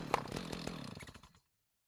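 A revving chainsaw in a tree-cutting video game, modeled on the DOOM chainsaw, buzzes loudly with a sharp attack and steady snarl, then trails off and cuts out after about a second and a half.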